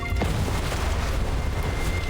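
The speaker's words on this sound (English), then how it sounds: "there's another explosion" A deep booming explosion in the video game Love and Deepspace, a dense low rumble with a sharp onset that rolls on steadily for about two seconds.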